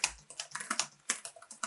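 Typing on an HP OMEN 15 (2020) laptop keyboard, a quick run of about a dozen soft, crisp key clicks close by with an uneven rhythm and no talking.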